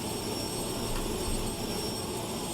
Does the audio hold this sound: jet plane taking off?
yes